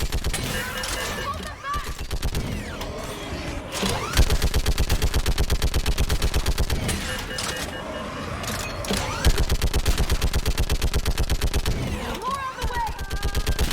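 Rapid automatic gunfire in the video game Mass Effect 3, fought on Thessia, hammers in long sustained bursts with brief pauses, loud and close, while soldiers shout orders over the shooting.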